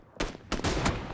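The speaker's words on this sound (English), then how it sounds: "Shots come towards him from Ben." Gunfire in a PUBG esports match, a quick cluster of three or four loud close shots in rapid succession with a brief sustained burst.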